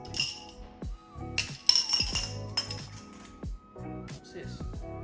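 Glass drinking straws clink and chime as they are handled, a series of bright, close clinks in uneven bursts with soft background rustling between them.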